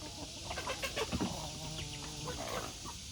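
Chickens, some with young chicks, cluck and mutter in short irregular bursts while foraging outdoors near a forest edge, a steady low farmyard murmur with a few louder calls, no talking.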